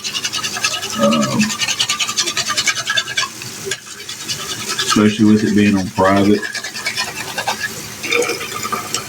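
Dishes scrubbed and rinsed by hand at a sink, brisk brushing strokes and running water close by, with a person talking over the washing.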